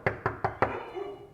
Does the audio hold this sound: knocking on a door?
yes